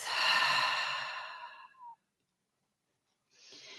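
A deep breath exhaled out through the mouth during a calm somatic breathing exercise: one long, close, breathy sigh fading out, followed by silence and a faint start of the next breath.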